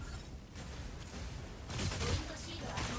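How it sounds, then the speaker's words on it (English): A video-game Gauss cannon fires in heavy bursts partway through, dense and booming over a noisy backdrop of game sound. "Gauss cannon from the melee boost is good too."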